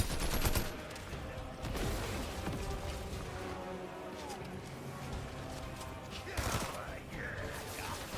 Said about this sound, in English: Who the hell is shooting at me now?